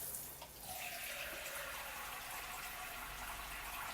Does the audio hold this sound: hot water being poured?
yes